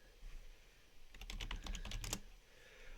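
A quick burst of keystrokes on a computer keyboard as a username and password are entered, about a second of soft, close clicking against a quiet room.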